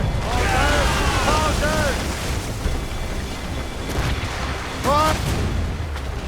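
Ship cannons firing in the naval combat of Assassin's Creed Rogue: heavy booms and rumbling blasts under shouting crew voices, loud and dense throughout.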